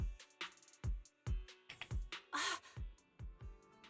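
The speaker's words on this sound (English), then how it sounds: "Oh, a Kingming bird." A Kingming bird in the video game Zenless Zone Zero calls in a series of sharp, rhythmic cawing bursts mixed with percussive game sounds. Each burst is short, at a moderate level.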